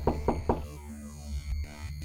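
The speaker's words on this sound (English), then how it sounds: "Maybe, can I try knocking on this door?" Three quick, evenly spaced knocks rap on a door in The Blackwell Legacy, crisp and close, followed by a quiet ambient music bed.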